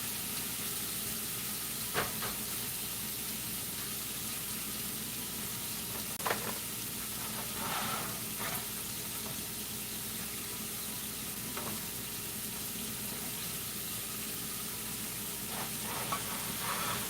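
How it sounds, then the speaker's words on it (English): Shrimp sizzle in an oiled pan for tostadas, a steady close crackling hiss with occasional sharper pops and stirring clicks, and nobody speaks. "we see that shrimp, it's up there cooking"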